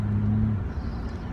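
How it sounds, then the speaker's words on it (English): A bus passes by on a road, its low engine rumble loud and close at first, then easing off into a softer, steady road drone. "I gotta let this bus go by"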